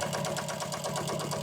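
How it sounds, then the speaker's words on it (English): A sewing machine stitches a dark blue vinyl boat cushion with black thread, a loud continuous mechanical hum with a fast, even pulsing rhythm, heard up close and without talking. "I'm sewing it in black thread because I'm using a dark blue vinyl"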